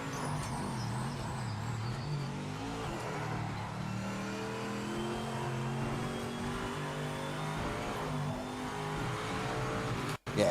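A race car engine in the video game Project Motor Racing drones steadily and loudly throughout, its pitch climbing and shifting as it revs, then cuts out briefly near the end.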